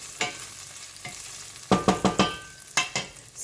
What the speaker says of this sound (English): I'm putting in my garlic first